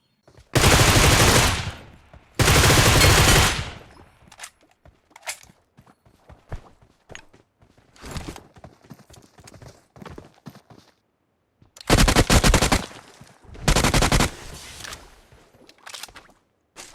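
Groza assault rifle fire in the mobile battle royale game BGMI, with loud sustained automatic bursts near the start and again later, separated by scattered single shots and footsteps.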